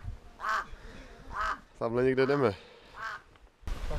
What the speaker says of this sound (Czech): Tady Havran se s náma loučí.